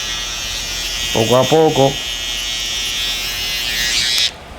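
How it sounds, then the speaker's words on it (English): An electric hair trimmer buzzes steadily and loudly on the back of a client's head during a fade haircut with a side line, and someone speaks briefly over it before the buzzing cuts off. "pasándole el trimmer en la parte aquí de atrás"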